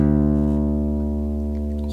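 Open D string on a bass guitar, one low sustained note held evenly for about two seconds with rich steady overtones and no other sounds.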